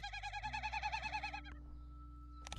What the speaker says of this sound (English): Carolina chickadee.